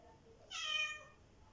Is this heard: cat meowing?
yes